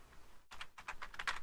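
Computer keyboard keys pressed in a short burst of crisp clicks, several quick taps after a brief pause, close and moderately loud with no talking.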